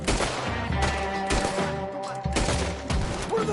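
Bursts of rapid gunfire ring out in a Red Dead Redemption 2 shootout, loud overlapping volleys with heavy thumping shots and a brief lull before firing resumes.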